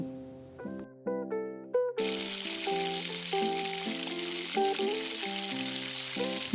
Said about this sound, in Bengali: প্রথমেই আমি পনিরগুলোকে একটু লবণ মাখিয়ে হালকাভাবে ভেজে নেব